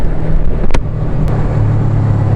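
A 2002 Suzuki GS500 motorcycle cruising in third gear at speed, a steady loud engine drone with heavy wind rumble and a couple of sharp clicks, no talking.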